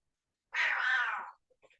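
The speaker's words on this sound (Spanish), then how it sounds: "Escucho un gato que debe ser de tu Sí, casa, ¿no?" A house cat meows once in a single drawn-out call lasting under a second, fairly close and clear, followed by a few faint soft sounds in an otherwise quiet room.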